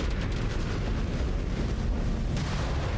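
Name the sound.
missile explosion in the video game Mechwarrior 5 Clans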